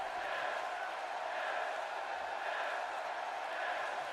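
A wrestling arena crowd at an ECW event roars in a steady, dense wash of cheering and shouting, loud and continuous throughout with no clear breaks.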